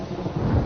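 A thunderstorm scene in the Thai film Jan Dara, with heavy rain hissing over a low, rolling rumble of thunder that swells toward the end of a very short burst.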